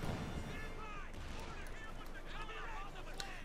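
Cluster bomb explosions and scattered gunfire in a Company of Heroes 2 battle, a steady rumbling barrage with crackling shots, faint and distant throughout.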